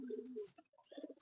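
Pigeons cooing in a loft cage, soft repeated coos close by with a brief gap midway.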